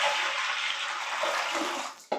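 Water pours steadily into a dough mixer in a pizza van kitchen, a continuous hissing splash that fades away near the end, followed by a brief knock.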